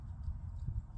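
Hooves of Freyja, a horse ridden at a walk during a riding lesson, clip-clop softly and nearby in an uneven rhythm of light, low thuds.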